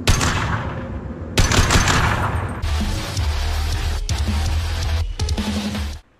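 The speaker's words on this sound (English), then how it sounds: "It's a semi-auto rifle that has a punch of a sniper rifle and the speed of a pistol." Semi-automatic rifle fire from a video game, a steady run of loud, dense shots and crashing bursts lasting several seconds with brief gaps, ending abruptly.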